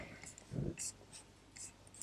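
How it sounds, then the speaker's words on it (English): Pen scratching across paper while a picture is drawn, soft and close, in short faint strokes with a brief louder scrape partway through. "let's draw a picture"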